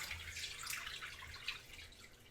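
Slurry is poured into simmering sauce for Marry Me Chicken Pasta, giving a soft, steady liquid splashing and trickling hiss that continues for a couple of seconds with no talking.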